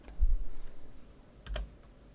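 A few keystrokes on a computer keyboard entering a search, in two brief bursts at close range with quiet pauses between, no talking.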